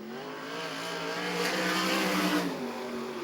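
Sprint car at Archerfield Speedway during the 2005/06 World Series Sprintcars finale, its engine roaring and climbing in pitch as the car launches into a wheelie, loud and sustained with crowd and track noise beneath.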